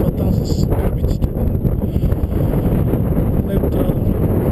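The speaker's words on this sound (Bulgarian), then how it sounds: "Много студен вятър" Cold wind buffeting a microphone on a mountain in the Pirin range near Koncheto and Vihren, a steady loud low roar and rustle throughout, with a voice speaking beneath it.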